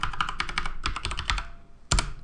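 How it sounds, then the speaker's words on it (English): Typing a password on a computer keyboard during a Fedora 29 sign-in: quick bursts of close, crisp key clicks, a short pause, then one heavier thump like a final key or enter press. "I'm gonna type in my password"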